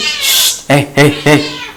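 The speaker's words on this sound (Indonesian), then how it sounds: "maaf ya guys, kucing lagi berantem" Cats fight with a hiss followed by three sharp, loud yowling cries in quick succession, close by and raw.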